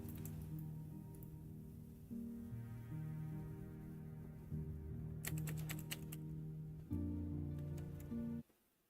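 Computer keyboard keys pressed while a stuck Hogwarts Legacy game won't respond, giving scattered faint clicks, including a quick run of taps, over a steady low game hum that cuts off at the end.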